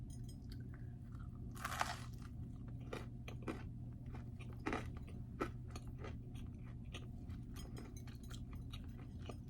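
Crispy fried flatbread made from two ingredients, flour and yogurt, is bitten and chewed close up, giving soft repeated crunches over a steady low background hum.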